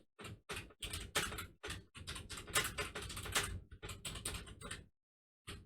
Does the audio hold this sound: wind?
no